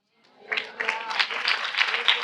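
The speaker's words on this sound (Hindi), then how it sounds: "give a good clap for the Lord" A church congregation applauds in praise, with a dense patter of many hands clapping that swells quickly from silence and holds steady.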